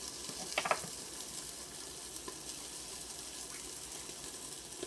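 Butter with broccoli in a frying pan gives a steady, faint, hissing sizzle throughout, with a few soft clinks and bubbling crackles near the start.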